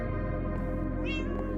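A single short meow from a cat in a video game, heard clearly over a steady, dense musical background.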